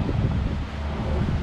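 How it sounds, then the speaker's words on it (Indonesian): Strong morning wind gusts steadily and loudly across the microphone, a dense rumbling rush close to the mic with slight rustling and no voices. "Angin kuat nih pagi ini."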